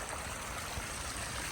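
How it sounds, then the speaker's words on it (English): Creek water in a spring garden runs down toward a small waterfall, a faint, even rushing wash with no talk. "creek just looks gorgeous. Put a stump in right there, and then that flows down to the waterfall"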